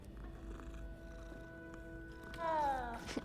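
A cat in Hogwarts Legacy purrs softly and steadily through a quiet game scene, then lets out a louder, rising meow-like call near the end.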